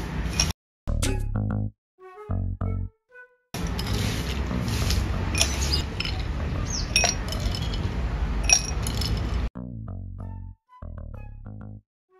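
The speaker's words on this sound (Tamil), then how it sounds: "எங்கள் ஸ்ரீதேவி ஐஸ் கட்டி போடுறார்" Ice cubes are dropped into a glass of homemade lemonade made with a big lemon and sugar, giving a run of close, sharp glassy clinks and rattles, some in quick bursts and others spread apart.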